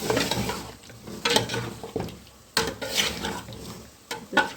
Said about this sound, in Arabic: نسيبها كده كل مدى نقلب فيها كده وتتشوح